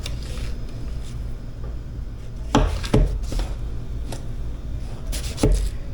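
A knife slices thin pieces off a loaf of whole wheat bread on a board, several loud, close thuds spaced a second or two apart over a steady background hum.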